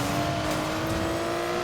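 A Nissan Skyline R32 engine in Need for Speed Payback holds a steady loud drone at an even pitch for a short stretch, with no revving up or down and no talk.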